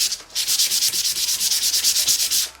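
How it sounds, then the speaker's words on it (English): Model propeller blade being hand-sanded, a close, steady back-and-forth scrubbing with about twenty even rasping strokes in quick rhythm, no voices. "Sand just a little bit more."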